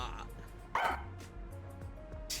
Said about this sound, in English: it's the loudest fucking dog on planet Earth